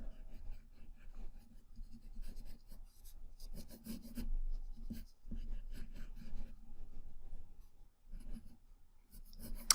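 A pencil drawing a tree on paper, with continuous scratchy rubbing strokes in repeated bursts separated by short pauses, close and quiet with no talk.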